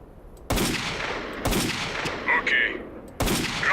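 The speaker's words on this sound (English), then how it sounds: "it's a competent sniper weapon" Sniper rifle firing in STALKER: Call of Pripyat, four sharp loud gunshots spaced irregularly, each a sudden crack with a brief decaying tail, plus a couple of faint metallic bolt or handling clicks between shots.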